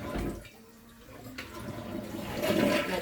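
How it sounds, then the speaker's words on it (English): A household toilet flushes close by, first a rushing burst, then a quieter lull, before the water surges louder again as the bowl refills. "My toilet takes a second to flush."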